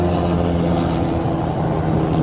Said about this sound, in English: That's a military chopper up there.